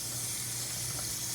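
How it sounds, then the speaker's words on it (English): Water pours steadily into a hydroponic seed-starting container holding rockwool, a close, continuous hissing gush with no talking. "So I'm going to actually fill this up with water."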